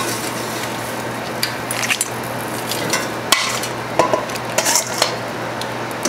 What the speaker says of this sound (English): So now I'm going to put the vegetables in there.